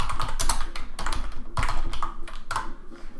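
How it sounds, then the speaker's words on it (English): Rapid, close typing on a computer keyboard, with clustered key taps and a few heavier strikes, while a command is entered into Windows PowerShell. No one speaks. "if I simply type in to PowerShell that command line there"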